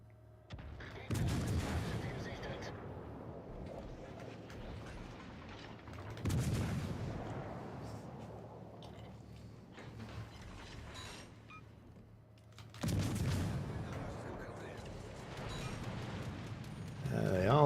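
Naval gunfire in World of Warships Legends, three heavy booming salvos spaced several seconds apart with rumbling tails, moderately loud over a steady game background.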